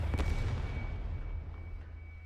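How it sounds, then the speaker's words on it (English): Artillery shell explosion in the Arknights game: one close, heavy boom with a sharp onset, then a low rumble that slowly dies away; no voices. "That's an artillery shell?"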